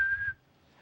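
A person whistles one steady, clear high tone for about a third of a second, close by, before it cuts off into faint room noise.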